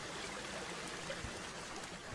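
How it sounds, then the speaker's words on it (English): Water pours down a waterfall feeding a river in a Planet Zoo habitat, giving a steady, broad, hissing rush that stays constant throughout. "So we do got our waterfall here."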